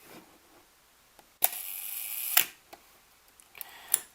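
Pentax Asahiflex SLR shutter firing on its 1-second setting: a loud mechanical snap opens, a whirring buzz holds for about a second, and a second clack closes it, followed by lighter clicks.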